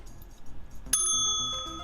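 A single bright bell strikes once, then a clear ringing tone sustains and slowly decays after a burst of background chatter and noise.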